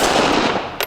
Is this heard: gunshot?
yes